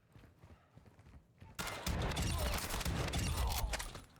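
A shotgun fires at enemies in the Call of Duty DMZ video game, with a quiet lead-in followed by a sudden burst of loud, rapid gunfire that continues to the end.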